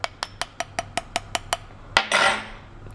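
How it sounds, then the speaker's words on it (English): Spoon tapping lightly on the top of a bath bomb mold, nine quick evenly spaced metallic ticks, then a louder knock followed by a brief rustling scrape, all close and clear. "So just getting a spoon and lightly tapping the top while holding the bottom."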